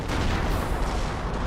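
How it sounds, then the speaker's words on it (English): A Wurfrahmen rocket barrage in Company of Heroes rumbles as a dense wash of overlapping blasts, loud and continuous for a second and a half. "Pershing gets destroyed by the Warfman barrage"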